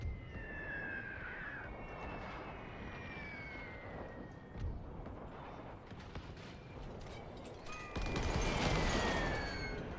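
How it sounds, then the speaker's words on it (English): Warship gunfire in The Great War 6.0, a First World War naval battle game with a German Baltic Fleet, sounds as dense rumbling cannon fire and explosions over a burning ship, swelling louder near the end. "Good fire being leveled upon the enemy here."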